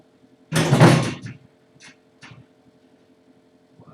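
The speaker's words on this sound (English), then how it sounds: "I just about knocked the whole whiteboard over." A classroom whiteboard gets bumped and nearly tips over, making one loud rattling thud that lasts about a second, followed by a couple of faint knocks in an otherwise quiet room.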